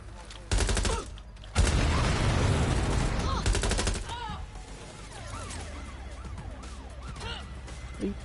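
Gunfire in the video game Watch Dogs Legion: loud bursts of automatic fire and fusillades against a gang, followed by siren wails and continuing action noise.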